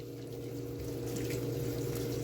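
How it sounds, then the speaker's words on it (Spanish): Low-pressure water running steadily over a K&N high-flow car air filter as it is rinsed clean, a soft, even hiss and splash with no talking. "Vamos a utilizar agua de baja presión."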